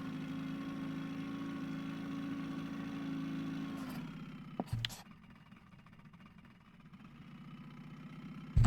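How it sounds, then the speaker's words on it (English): A boat engine idles in the Russian Fishing 4 game, a steady low drone for about four seconds, then cut off with a couple of clunks, leaving a quieter low hum that swells slightly toward the end. "I'm going to stop the engine."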